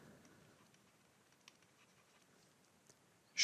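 Pen writing out math notes in a quiet room: faint, scratchy strokes with small ticks and taps, close and soft, ending in a sudden louder burst.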